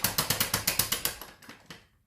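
A Kirby shampooer's head being lowered with its side lever gives a quick series of sharp mechanical ratcheting clicks, about a dozen evenly spaced, loud and close, slowing and fading toward the end.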